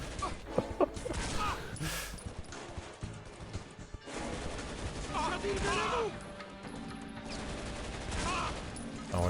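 Sniper rifle shots and surrounding battle noise in the shooter game Shadow Ops: Red Mercury, sharp cracks scattered among crashes and in-game voices over a busy, loud soundscape.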